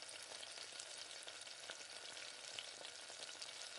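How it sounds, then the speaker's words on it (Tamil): Chicken pieces fry in hot oil with tomato as they are stirred, a dense, even sizzle that holds steady throughout, close and fairly soft, with no speech. "சேர்த்து நல்லா அப்படியே எண்ணெயிலே பரட்டி விடுங்க."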